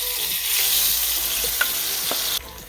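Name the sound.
Frying akara batter in very hot oil, sizzling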